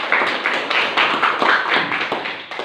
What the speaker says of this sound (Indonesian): Kita beri aplaus untuk semua kelompok yang sudah tampil